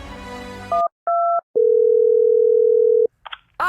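A telephone dial tone sounds as a call is placed: two short paired electronic beeps, then a steady, loud, unbroken tone held for about a second and a half before cutting off, followed by faint clicks.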